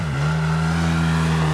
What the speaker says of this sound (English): Driving that 4-wheeler through the snow and mud